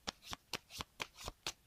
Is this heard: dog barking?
no